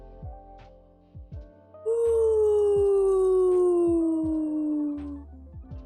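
A dog gives one long, loud howl that slowly falls in pitch over about three seconds, close by, after a few faint taps and small sounds.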